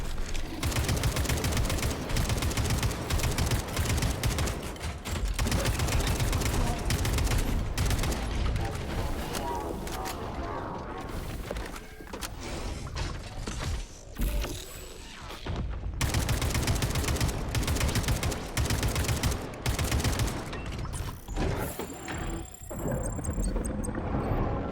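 Sustained gunfire in the Atomic Heart video game, dense rapid bursts of loud shots that keep up almost continuously, with brief pauses between volleys.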